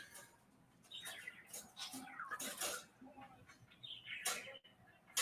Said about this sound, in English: My bird is going insane